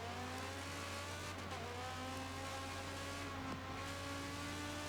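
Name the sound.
race cars cornering in racing video game GT WorX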